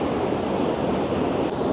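Buna River water rushing steadily near the dervish house in Mostar, Bosnia, a continuous broadband wash close by with no voices.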